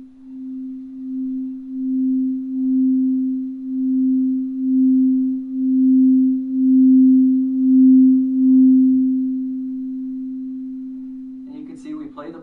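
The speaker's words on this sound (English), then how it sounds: "So the first bowl that I'm going to play for you is the C note," A crystal singing bowl tuned to C, rubbed around its rim with a mallet, sustains one pure, steady ringing tone that gently pulses in loudness for about eleven seconds before a brief clatter of handling noise.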